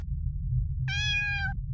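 A single short cat meow from the video game Mura Oni, clear and close over a steady low background hum.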